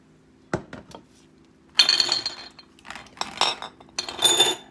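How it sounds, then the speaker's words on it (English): Glass jars clinking and knocking together as they are shifted aside on a kitchen counter near a stove, a few light taps followed by clusters of sharper rattling clinks, close and with no talk. "Move my jars out of the way."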